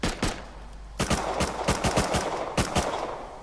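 Gunfire in the survival shooter Rust: a quick double shot, then a rapid burst of about eight sharp reports, then another pair, loud and close with a faint echo.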